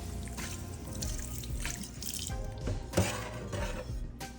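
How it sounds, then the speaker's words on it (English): Running tap water splashes steadily over a slab of pork ribs in a sink, with drips and gushes as the meat is rinsed by hand. It is close and continuous, with no voices. "Make sure you wash your meat first."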